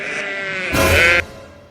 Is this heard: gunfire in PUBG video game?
no